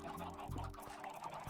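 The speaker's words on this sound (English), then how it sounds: "Oh my goodness, look at how many chickens." Chickens clucking in a video game, a continuous soft mix of short clucks from several birds, steady and moderately quiet with no talking.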